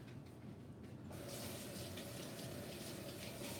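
Kitchen tap water runs over green onions being rinsed, starting quieter and then opening to a steady, fuller splashing stream into the sink for several seconds, with no talking.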